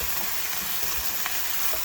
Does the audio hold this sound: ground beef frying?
yes